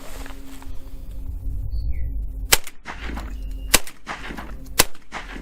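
Retay Masai Mara Inertia Plus inertia-action shotgun fired outdoors, three sharp loud reports about a second apart over a low rumbling background, each followed by a brief clatter of ejected hulls.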